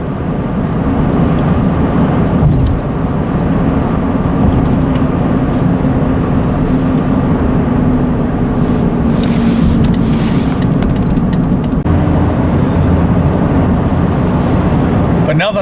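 Jeep Renegade cruising on the road, a loud steady roar of tyre and wind noise inside the cabin, constant throughout with a voice speaking over it.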